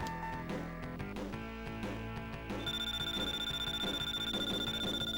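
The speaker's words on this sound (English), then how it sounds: "That is our alarm to tell us that we are just about ready on the other afterburner." Alarm in the After Burner 2 arcade game signalling the afterburner is nearly ready: a repeating, bell-like electronic ringing pulsing steadily over the game's music, loud and continuous.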